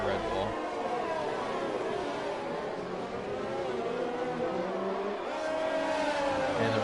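Race cars in an F1 racing video game, a Red Bull among them, drone and whine at high revs as one overtakes another during an Australian GP esports race, the engine noise steady and loud with commentators talking over it.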